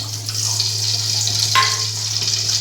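Oil and ghee sizzle steadily in a pan while cooking coconut rice, a constant close fizz with a low hum beneath and a faint clink partway through.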